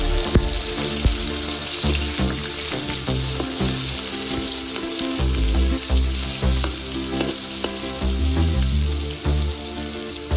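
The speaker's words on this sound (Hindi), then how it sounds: "एबे पियाज पकेई भाजिबा।" Onions frying in hot oil in a kadai with bay leaf, dried chillies and cumin for chhole paneer, a loud steady sizzle with stirring scrapes and a background hum and rhythmic thumps throughout.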